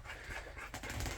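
Shop dog panting rapidly, close up, with quick breathy huffs that are loud against a quiet room.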